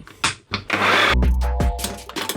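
A blender processes fresh pesto while olive oil is added, running in loud, close stop-start pulses with a whirring motor between short pauses.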